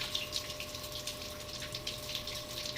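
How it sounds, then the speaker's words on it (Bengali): Running water gushes and splashes steadily as prawns are washed in a sink. A faint, steady hum sits under the water, and no one talks. "3-4 বার করে জল পাল্টে পাল্টে এটাকে আমি ধুয়ে তারপরে চলে যাব রান্না করতে"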